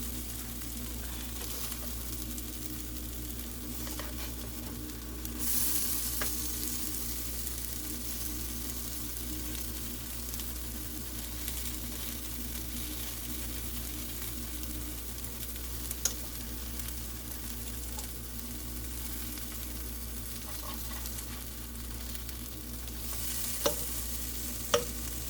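Black bean burgers frying in a pan, a steady low sizzle and crackle running throughout with a few faint clicks of a utensil, no voices.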